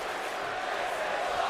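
A wrestling event crowd roars in a steady, dense wash of cheering and shouting, sustained and fairly distant without any single voice standing out.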